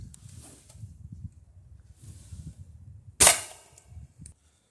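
A .22 caliber pellet gun fires a BB tip pellet into a ballistic gel rabbit with one sharp, loud crack that decays quickly, set against quiet rustling and handling noise before and after.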